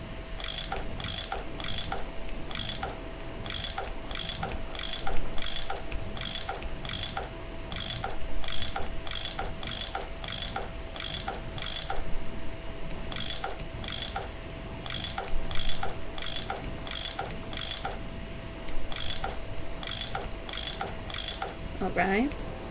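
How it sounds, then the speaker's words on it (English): Rapid repeated mechanical ratcheting clicks from a bolt-turning tool in the Nancy Drew game Last Train to Blue Moon Canyon, an even rhythmic clatter running steadily for over twenty seconds over a faint steady hum. "I bet that's what you use to unscrew these bolts"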